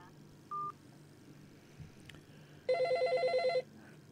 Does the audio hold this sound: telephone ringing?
yes